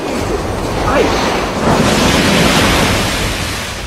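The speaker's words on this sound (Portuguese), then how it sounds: "Chega o furacão Katrina, com velocidade de 210 quilômetros por hora." Hurricane Katrina's 210 km/h winds roar with pounding waves up to eight metres high on the US Gulf coast, a loud, dense, unbroken wash of noise with no let-up.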